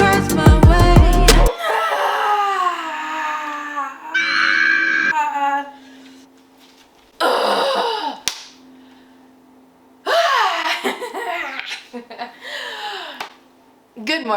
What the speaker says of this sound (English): You ever just like stretch and need to yell in the morning?